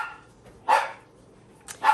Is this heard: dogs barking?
yes